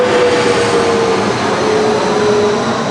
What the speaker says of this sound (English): Let this plane ease by.